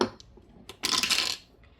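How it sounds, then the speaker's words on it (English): Two six-sided dice tossed onto a hard surface, a short clatter of rattling hits and a brief roll that settles within a second, close and fairly quiet. "So we're going to roll 2 6-sided die."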